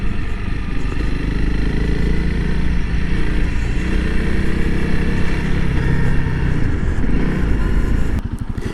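A Honda CRF300L dual-sport motorcycle engine runs steadily and loud, close up, with a continuous low throbbing drone that eases slightly near the end into a rougher idle.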